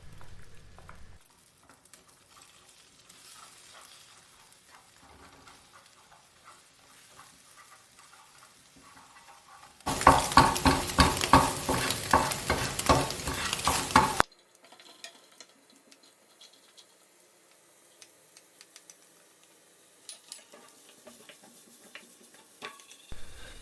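Egg bhurji is stirred and fried in a pan. Quiet stirring gives way to a loud, dense burst of sizzling for several seconds, then fades back to soft scraping and ticking.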